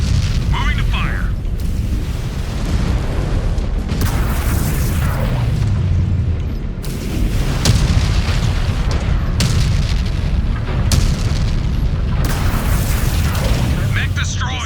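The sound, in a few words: mech exploding in the video game MechWarrior 5: Clans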